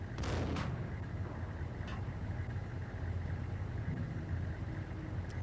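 A grenade blast in a video game: one sharp, loud burst at the start that fades into rumbling background engine noise, followed by a fainter crack, with no talking.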